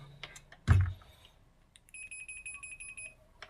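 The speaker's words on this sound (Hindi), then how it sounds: "मीटर को मैं ये बीप पे रखा हुआ मैंने" A multimeter set to continuity mode emits a steady electronic beep while probing a 32-inch LED TV panel's VGH pins, preceded by a sharp click and brief clatter, fairly faint and with no voices.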